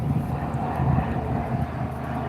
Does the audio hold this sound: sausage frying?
no